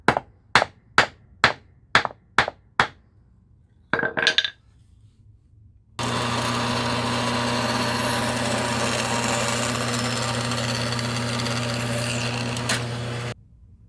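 A hammer drives a wood wedge into a hatchet handle, giving seven sharp evenly spaced strikes, then a quick double blow. A loud steady machine whine follows, likely a power tool running, with no talking.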